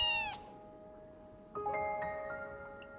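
Cat meowing from inside a cage in the video game Fragile Dreams: a short, bright meow at the start, then after a pause a longer, drawn-out meow that fades slowly, close and clear over a quiet background.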